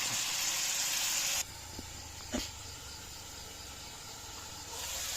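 Vinegar sizzling in a hot pan with fish: a loud, steady hiss that drops abruptly after the first second, stays lower with a faint click, then swells again near the end.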